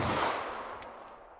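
A single sharp report from a 9mm compact Sig Sauer handgun fired with Elite Defense V-Crown ammunition into clear ballistics gel, booming up close and then fading into a short echoing tail.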